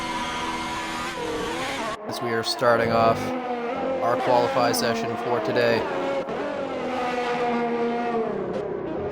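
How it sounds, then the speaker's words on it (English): A Ferrari engine in a racing game at the Chinese Grand Prix revs and rises in pitch during a qualifying session, with several cars whining past under steady commentary from a voice. "I do hear an engine starting up. It does look like a Ferrari."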